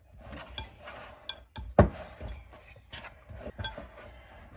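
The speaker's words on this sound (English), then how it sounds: "mix it up with the spoon first" Spoon scraping and clinking against a bowl while mixing honey into homemade grain bread dough, irregular knocks with one sharp loud clank near the middle, close and alone without talk.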